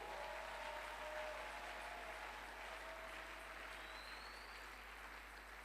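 A church congregation applauding together in a sustained, dense burst of clapping that stays loud throughout and eases slightly toward the end, with no speech over it.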